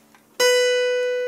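A single sustained musical note B rings out alone after a short quiet moment, starting with a clear attack and fading slowly.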